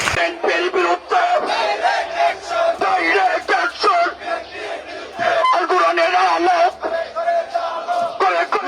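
A large crowd chanting slogans in loud, rhythmic waves of massed voices that rise and fall with pulsing emphasis, heard close and dense throughout.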